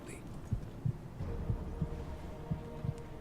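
Low, muffled heartbeat pulsing in The Witcher 2, paired thumps recurring at an even pace over a quiet background hum, with no speech.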